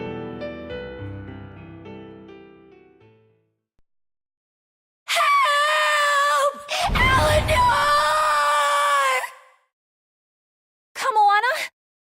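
Velvet, a character in the video game Tales of Berseria, lets out loud, strained yells in two long bursts followed by a shorter cry, after a fading musical passage and a brief silence.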